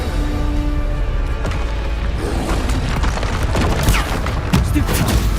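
Bombarda blasting spells cast in Hogwarts Legacy, a dense barrage of booming explosive blasts and sharp cracks with crackling debris, loud and continuous throughout.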